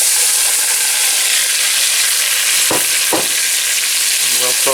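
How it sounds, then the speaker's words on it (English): Onions hit melted butter in a pot and sizzle with a loud, dense, continuous crackle. A couple of brief clunks and a faint tonal clatter near the end sit on top, with no one talking. "butter's melting nicely. We're going to throw the onions in."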